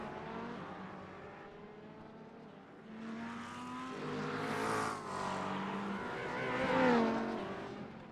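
Simulated LMP prototypes and GT3 sports cars racing at the Detroit Grand Prix street circuit in iRacing, engines droning and rising in pitch as cars accelerate and pass, a steady mid-level roar building toward louder surges near the end.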